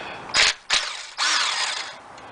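Power tool bursts loosening a 10mm bolt from a plastic bracket during timing belt and water pump work on a Toyota 3.4L 5VZ-FE engine: two short whirring pulses, then a longer sustained run, close and loud.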